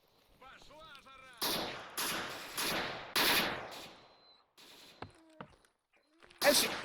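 Bursts of automatic gunfire ring out in the S.T.A.L.K.E.R. NLC 7 hardcore mod, several loud volleys in quick succession followed by a few sharp single shots, with chirping speech-like sounds at the start.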